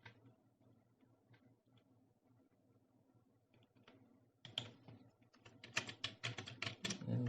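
Keys clacking on a computer keyboard as someone enters text, quiet scattered taps at first, then a dense, louder burst of rapid typing in the final few seconds.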